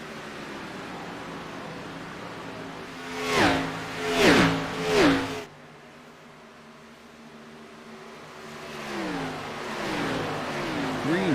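Race cars roar past on the track at the Las Vegas 2022 Winter Series championship finale: three loud revving swoops in quick succession, then a quieter lull before another engine note builds toward the end.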